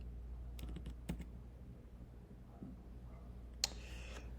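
Crossword answers being typed on a computer keyboard, a few sparse key clicks scattered over a low steady room hum, with one sharper click near the end.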